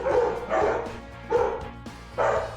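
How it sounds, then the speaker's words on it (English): Several dogs barking in the background, gruff bow-wow barks in three or four bursts spaced about a second apart, fairly loud and echoing, with no talk over them. "you got the dogs barking in the background"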